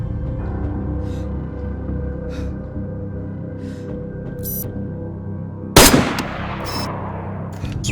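Sniper rifle gunfire in the video game DayZ: a single sharp, loud shot cracks out near the end, trailing into a rolling echo over a steady ambient background.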